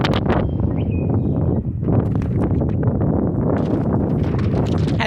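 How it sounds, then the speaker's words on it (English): Strong wind gusting outdoors, buffeting the microphone with a constant low roar and rustling bursts that stay loud and close throughout, no voices. "we have wind because that's so unusual out here"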